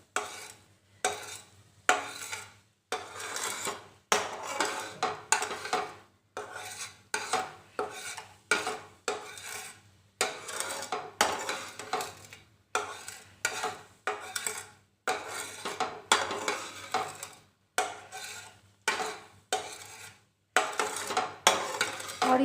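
A spoon repeatedly stirs and scrapes melted jaggery in a pan over a low flame, rhythmic rasping strokes in bursts separated by brief pauses, close and steady, with no talk.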